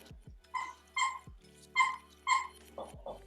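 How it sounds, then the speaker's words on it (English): A dog chomps on a squeaky toy held in its mouth, giving four loud, close, high-pitched squeaks in an uneven rhythm, with softer squeaks and clicks between them. "remove the squeaky toy from your dog's mouth"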